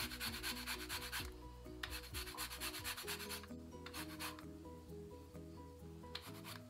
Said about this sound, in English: I'm going to add my lemon zest.